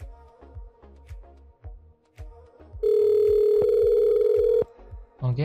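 A Zoiper softphone places a SIP call to another extension: faint clicks, then a steady electronic ringback tone holds for about two seconds before cutting off.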